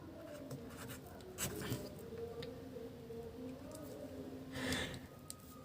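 Pen scratching on paper during a Class 10 maths lesson on real numbers, with soft intermittent strokes and a few brief louder scrapes over a quiet room hum.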